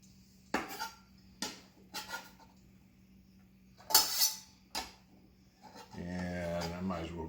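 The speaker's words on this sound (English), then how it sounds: "We're going to put onions in the pot." Onions dropped into a cooking pot while making a Hatch green chile burrito: several separate clattering knocks and scrapes with short gaps between them, followed by a person talking.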